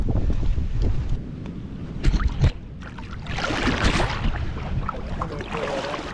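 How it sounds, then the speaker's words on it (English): Strong cold wind buffets the microphone outdoors in the bush during a beaver trapping outing, a loud, continuous roaring rush that swells in gusts, with no talking. "Freaking crazy wind today."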